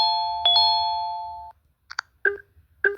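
'SMS notification' phone ringtone from a Zedge collection: a doorbell-like two-note chime that rings on for about a second, then a short pause and three quick clipped blips.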